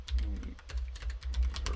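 Rapid, close keystrokes on a computer keyboard during a live coding session, an uneven patter of crisp clicks over a low steady hum.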